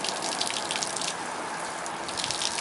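A tap runs inside a 2011 Sunseeker 3121DS RV, a steady, close, hissing stream of water with no break and no speech.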